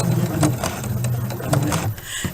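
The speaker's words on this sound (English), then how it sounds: "I then set my stitch length to 0, and I sew about 3 stitches." A sewing machine stitching a dart at zero stitch length, a few quick mechanical whirring runs with rhythmic clacking pulses, close and fairly loud, with brief gaps between bursts.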